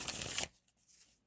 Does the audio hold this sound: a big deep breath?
no